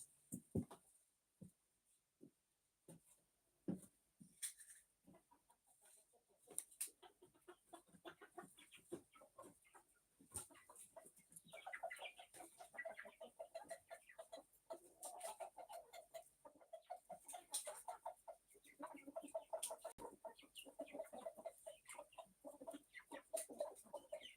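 Chickens cluck outdoors, faint and some distance off, as an irregular run of short clucks and calls that turns denser in the second half against a quiet open-air background.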